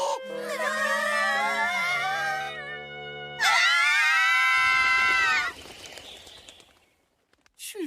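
An anime girl's high-pitched screams ring out in two long, loud bursts with a short gap between them, and fainter noise trails off at the end.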